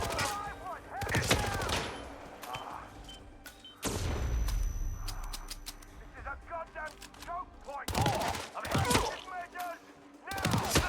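Rapid gunfire from Hitman 3 crackles in repeated bursts and volleys during a firefight, loud and close, with voices talking over and between the shots.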